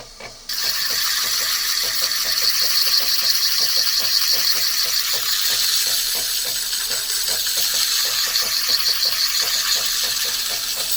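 Opal potch being ground on a grinding wheel, a steady loud abrasive hiss and whine with faint rattling, continuous and close throughout after a brief quiet start.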